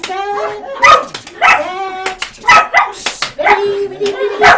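A pet dog gives repeated short, excited barks and yips in several bursts, close by and loud, mixed with a person's lively talking.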